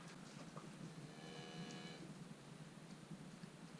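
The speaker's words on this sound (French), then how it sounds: "Voici une de nos belles vaches qui est en train de manger, comme vous le voyez, du foin qui est produit sur notre exploitation" A cow on a farm, fed hay grown on the same farm, gives a faint drawn-out moo over low, steady barn background noise, with no talking.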